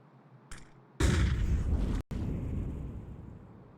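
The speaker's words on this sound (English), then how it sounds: "Deep nades are being thrown in from players on the opposite side of the map" Grenades burst in a Counter-Strike 2 match on the Overpass map: a faint pop, then a sudden loud roaring blast with a sharp second detonation, each followed by rumbling decay, no talk.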